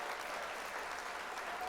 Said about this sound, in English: while I hit this button on my stream deck and we get some applause going